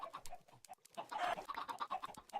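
A chicken in the game Minecraft being killed, giving a run of short, repeated clucking squawks up close, with a brief louder flurry partway through.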